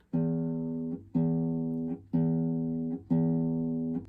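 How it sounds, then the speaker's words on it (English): Four evenly spaced low notes plucked with the flesh of the thumb on a classical guitar's E string, each warm and round, ringing about a second before the next. "that's a fleshy sound"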